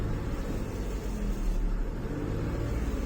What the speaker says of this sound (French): Donc typiquement si j'appuie sur l'accélérateur,